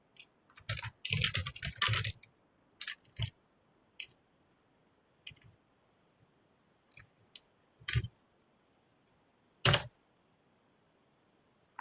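Sparse computer clicks and taps at a desk, close and crisp, a quick cluster of several clicks early on followed by scattered single clicks with silent gaps between them, and no talking.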